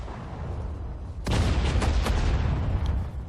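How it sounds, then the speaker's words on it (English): Mortar fire in the WWII strategy game Sudden Strike 4: a sudden loud blast cuts in over a low rumbling battlefield bed, followed by several sharp crackling reports and sustained heavy booming. "It's probably from the mortar identified there."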